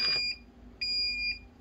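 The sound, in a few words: brewing timer being set, beeping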